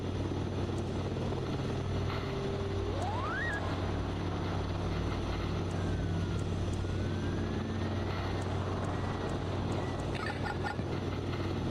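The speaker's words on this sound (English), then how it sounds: "Drone is so loud." Drone in the video game Voices of the Void, a steady mechanical hum with a rising whine sweeping upward partway through, droning evenly under faint ambient game sounds.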